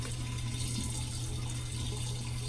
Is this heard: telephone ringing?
no